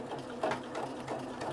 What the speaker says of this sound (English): it's automatically doing the buttonhole there